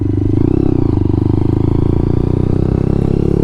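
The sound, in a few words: Lexmoto LXR 125 motorcycle riding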